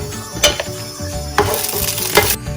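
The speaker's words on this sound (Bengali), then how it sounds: "একটু শুকনো লঙ্কা আর 5 ফোড়নে দিচ্ছি, একটা এলাইচি দিয়ে দিলাম" Dried red chillies, five-spice seeds and a cardamom pod hitting hot oil, crackling and sizzling close up, with a few sharp spatters and spoon stirs breaking the steady fry.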